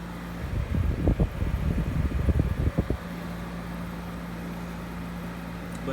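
A 1994 Amana 6700 BTU window air conditioner runs with a steady low hum and fan whoosh. A few seconds of louder rumbling thumps sit over it early on, then the even drone carries on alone.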